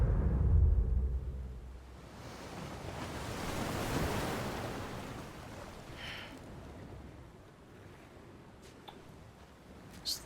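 Waves wash onto Amelie's Beach in the Death Stranding video game, a steady broad surf roar that swells and recedes with a gusty wind-like hiss, fairly distant and with no one speaking.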